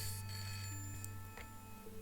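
A telephone rings inside an apartment in the video game Broken Sword: Shadow of the Templars, with steady electronic ringing tones over a low background hum.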